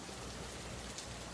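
Rain falls in a steady, even wash of soft noise from a distant or quiet setting in The Last of Us Part II, with no voices.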